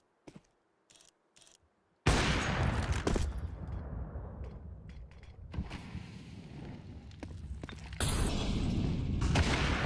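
Gunfire and explosive bursts during a professional Counter-Strike match, a few faint sharp shots first, then a loud sustained barrage of shooting and booms that swells again near the end.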